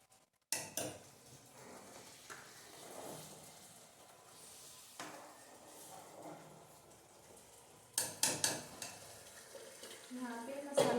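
Masala spice mix roasting in a home kitchen pan while being stirred, a steady sizzle broken by repeated scraping and clinking of a spoon against the pan, close and fairly loud, with no talking.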